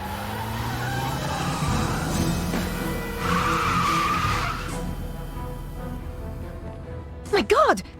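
A sports car skids and screeches past in the video game Broken Sword 3, a long tire-squeal sweep under engine noise, with a sharper burst of skidding near the end.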